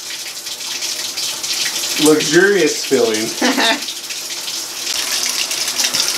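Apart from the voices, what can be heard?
water running from tap into tub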